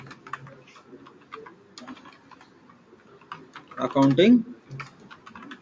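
A computer keyboard clicks in quick, irregular keystrokes during software data entry, close and fairly quiet, with a louder cluster of taps midway and a voice talking throughout.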